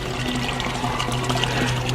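Water pours steadily into a 4x4-foot false-bottom garden bed 16 to 18 inches deep, a continuous close splashing flow with no pauses.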